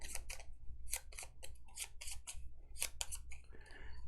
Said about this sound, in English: So let me shuffle these anomaly cards up.